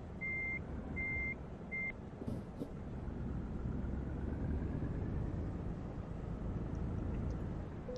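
Electronic reversing beeps from a truck parking in Euro Truck Simulator 2: three short, evenly spaced tones at the start, then a steady low engine and road rumble for the rest.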